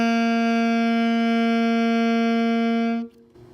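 Sustained alto saxophone note G, held steady and clear for about three seconds with a bright, reedy tone, then cut off into near silence.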